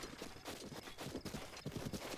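Horse hooves clip-clop in Breath of the Wild, a steady rapid rhythm of close, even beats that carries through the whole stretch with no other sound over it.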